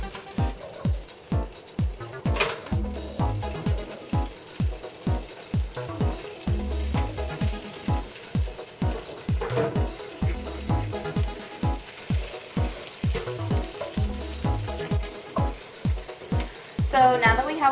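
Asparagus sautés in a hot pan for shrimp and asparagus pasta, with a continuous close sizzle broken by regular, rhythmic stirring pulses about once a second, and no talking.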